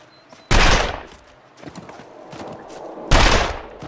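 Gunfire in The Long Dark survival game, probably a revolver: two loud, sharp shots about two and a half seconds apart, each with a decaying tail. Softer footstep-like thuds fall between them.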